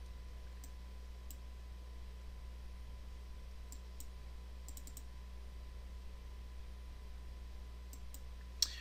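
Computer mouse clicks, small dry ticks heard a few at a time at scattered moments over a faint steady hum, with a slightly louder click near the end.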